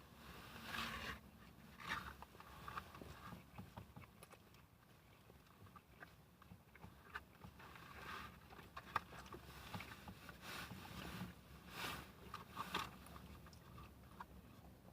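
Someone bites into and chews a Burger King grilled hot dog topped with chili and cheese, with quiet, close, wet mouth sounds repeating steadily.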